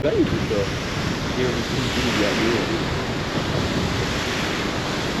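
Sea waves wash steadily onto the French coast at night, a broad continuous rush mixed with wind on the microphone, with faint voices briefly at the start.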